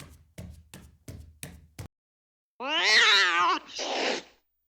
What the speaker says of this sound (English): It was your damn cat again.